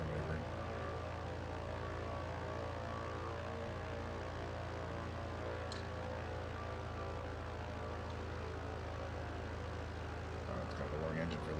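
A twin-engine Islander propeller plane in a flight simulator game with one engine shut down and the other running, giving a steady, loud droning propeller hum that holds throughout without a break.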